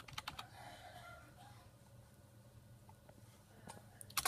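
Fingers tap on a computer keyboard while entering a search on Google: a quick flurry of clicks, then a quieter pause, and a few more sharp keystrokes at the end.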